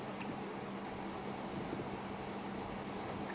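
A single cricket chirps at night somewhere off to the left in the African bush, repeating short high trills at irregular intervals over a quiet, low background hum.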